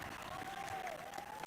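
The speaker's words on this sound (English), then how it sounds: "A lot of fans in the stands cheering them on." Fans in the stands at a Canadian National Pickleball League match applaud and cheer in a steady, diffuse wash of clapping and crowd noise, with a sustained whistle-like tone running through it.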